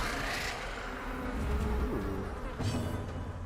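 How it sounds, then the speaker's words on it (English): A mosquito's buzz from the game Darkest Dungeon drones continuously at moderate loudness, blended with the game's low ambient backdrop and no voice. "the mosquito noise is really getting to me."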